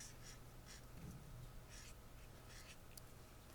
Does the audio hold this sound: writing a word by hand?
yes